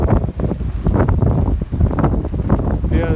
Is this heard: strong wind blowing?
yes